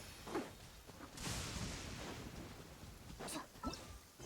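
Lightning strikes in the video game Genshin Impact bring bursts of thunder, with a few sharp cracks and a rolling rumble against quiet game ambience.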